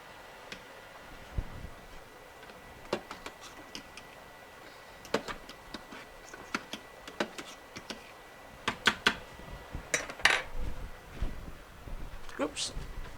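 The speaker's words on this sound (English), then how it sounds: "Throwing stuff on my counter" Kitchen items clatter onto a home counter during Italian sausage pasta cooking: a scattered series of sharp knocks and taps, some close and loud, others lighter, with faint voice and low room noise beneath.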